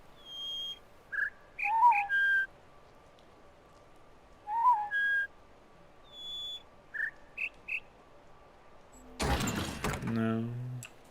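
Short whistled tones from The Witness, a puzzle video game, ring out in clear separate bursts of two or three notes with pauses between them, followed by a louder, broader chiming burst near the end.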